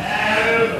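A Dorper sheep in a raised slatted-floor pen gives one loud, sustained bleat close up, alone with no talk.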